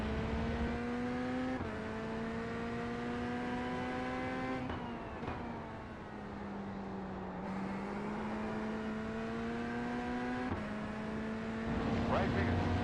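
An LMP2 prototype race car, in an IMSA endurance race at Circuit de Barcelona-Catalunya, drones past with a steady engine note and several gear shifts, heard over continuous race car noise.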